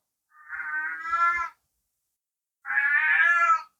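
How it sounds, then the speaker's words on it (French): Pet cats meowing indoors, two long, loud, drawn-out meows separated by a short silence, close by and alone with no talking. "J'ai les chats, comme d'habitude"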